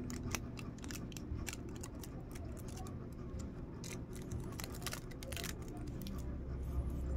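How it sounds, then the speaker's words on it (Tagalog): Hologram foil being peeled and handled on a homemade minnow fishing lure, close crinkly rustles and sharp snips in a steady run over low background hum, with no talk. "tanggalin natin yung foil"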